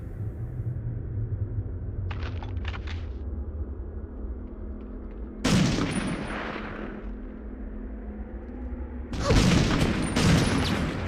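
Gunfire in the World War II shooter game Medal of Honor Underground, a castle battle against Nazi soldiers: two loud bursts of shots with booming low end stand out over a steady rumbling background, with a fainter crackle between them.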